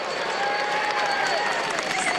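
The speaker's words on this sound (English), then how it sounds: "Cheers all the way from a magnificent crowd in the Pyrenees" A large roadside crowd at a Tour de France mountain stage finish in the Pyrenees applauds and cheers in a dense, continuous wash, loud and steady with no break.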